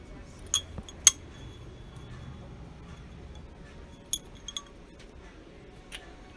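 Small blown glass piece picked up at a thrift store gives a few sharp, bright clinks while handled, two close together then a pair later and one faint tap near the end, over quiet room noise.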